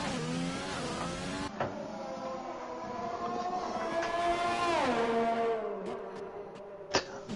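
A race car engine from a racing video game screams through a lap on the Hungary circuit, its pitch climbing steadily then dropping as it brakes for a corner, with brief clicks and no talk.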